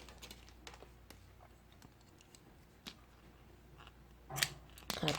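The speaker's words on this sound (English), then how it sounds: "At this point I'm going to cut my yarn" Scissors snip crochet yarn with a few quick, close crisp cuts near the end, after faint light clicks and handling noises against a quiet room.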